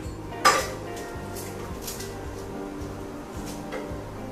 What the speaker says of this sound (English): if you have one of these cleaver, you just smash the garlic and the sheet will come off very nicely